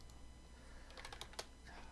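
Quiet typing on a computer keyboard at a desk while drafting AutoCAD 3D models, with a scattering of soft key taps over faint background hiss and no talking.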